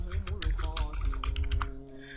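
Quick keystrokes on a computer keyboard as a participant name is typed, a close run of clicks partly under a voice talking throughout.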